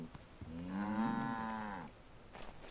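A single long cow moo in Assassin's Creed III, a deep, drawn-out low call lasting over a second, heard alone and fairly close.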